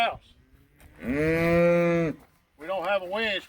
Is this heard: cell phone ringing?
no